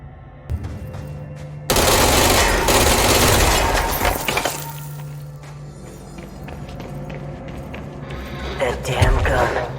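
Video game gunfire in Control: loud bursts of shots start near the beginning and turn into a dense stretch of automatic fire that rises and fades. Other game sounds and speech-like noise are mixed in.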